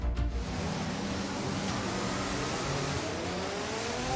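A Formula 1 car engine drones steadily on track in F1 22 during a wet sprint race, a loud, constant roar with rising tones and spray-like hiss, no talk.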